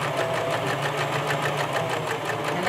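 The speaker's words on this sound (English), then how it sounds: "now I'm sewing up the folded edge of the fly, very close to the edge" A domestic sewing machine running steadily, stitching close along the folded edge of a trouser fly, with a continuous whirring motor and rapid rhythmic needle chatter filling the whole stretch.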